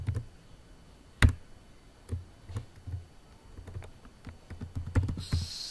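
Code is typed on a computer keyboard in an irregular run of close, soft key clicks with a few louder strikes, over a quiet room hum.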